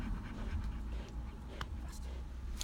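A dog pants steadily at close range during protection training. The quick, breathy rhythm sits among continuous shuffling and background noise.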